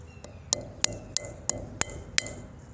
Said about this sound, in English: I'm gonna try to crack this part open though